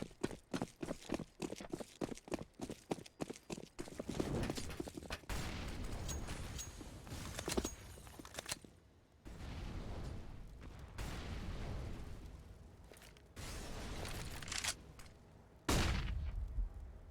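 Gunfire crackles in a competitive shooter video game, opening with rapid bursts of sharp shots, then giving way to longer rumbling blasts and sustained loud firing with brief pauses, no talking.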